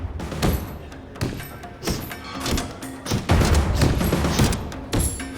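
Heavy bag in UFC Undisputed 3 taking punches, loud repeated thumping impacts in irregular bursts of combinations with short pauses between flurries, close and punchy.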